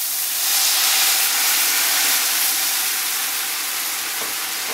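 Sherry is poured into a hot pan of sautéed mushrooms and gives off a steady, broad sizzling hiss that holds for several seconds.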